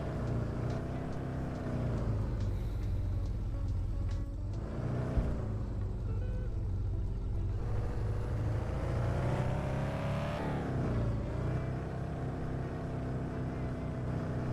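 A car with overinflated, bouncy tyres drives in a car-selling video game, its engine droning steadily with pitch swells as it revs, plus an occasional knock.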